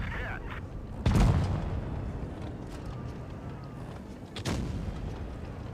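A tank cannon in a tank video game fires one heavy, booming shot, followed a few seconds later by a second loud blast against a low rumbling background.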